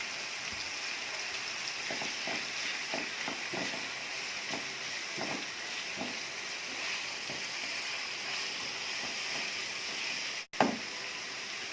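Soy-sauce-marinated chicken for spicy vegetable noodles sizzles steadily in a hot pan, a constant hiss with scattered crackles and one sharp clatter near the end, with no talking.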